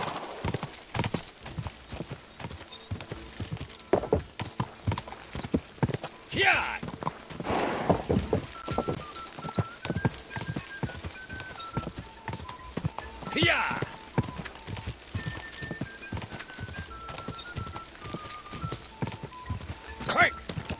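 Horses gallop in the medieval game Kingdom Come II, a steady close clip-clop of hooves running throughout at a brisk rhythm, with a neigh or two and people talking over the galloping.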